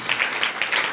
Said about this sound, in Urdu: آئیں زوردار تالیاں ہم یسوع کو دے دیں